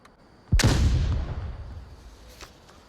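A grenade goes off in the VR shooter Onward: one sharp, loud blast followed by a long rumbling decay, with no talking.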